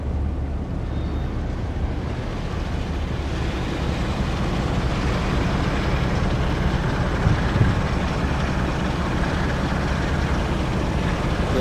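Class 47 locomotive in the Train Sim World 3 video game, a steady rumbling drone of engine and rails, continuous and moderately loud, with no distinct arrival peak.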